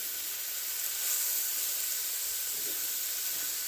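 Homemade street taco filling steams and sizzles in a pan, a steady close hiss that holds evenly throughout with no talk over it.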